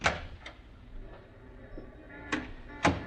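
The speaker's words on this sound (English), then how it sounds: "Now, open the door and step outside." A door opening followed by steps outside in a radio drama, with a few short sharp knocks and clicks separated by quiet pauses, close and fairly faint.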